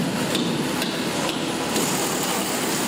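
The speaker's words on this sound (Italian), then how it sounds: "vedi quando poi li battono col martello si allargano" A hammer strikes roofing fasteners on a building site, the sharp knocks landing about every half second over a loud, steady wash of site noise and machinery, with no one speaking.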